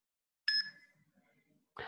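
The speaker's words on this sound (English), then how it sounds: "You'll hear my phone." A phone chimes to alert an incoming money transfer: a single bright two-tone ding that rings out and fades, followed by a short burst of speech at the end.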